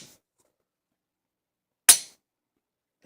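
A Glock 19 pistol racked and dry-fired after reassembly, one sharp metallic click in near silence with another starting at the very end, close and crisp.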